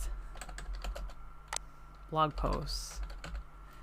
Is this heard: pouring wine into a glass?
no